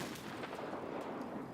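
A muffled grenade blast in a first-person shooter game, heard as a dull, rumbling boom with a brief crackling tail, moderately distant and fairly quiet, with no talking.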